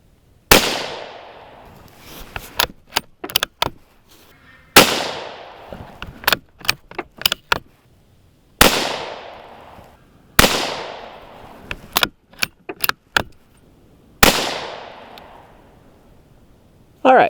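Five sharp shots from a Savage 93R17 .17 HMR rifle, evenly spaced a few seconds apart and loud at close range, each followed by quick metallic clicks of the bolt being cycled.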